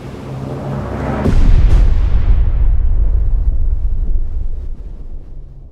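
Depth charge explosions in the naval game Destroyer: The U-Boat Hunter, a heavy deep underwater boom with a couple of sharp cracks, then a long rolling rumble that slowly fades, no voices.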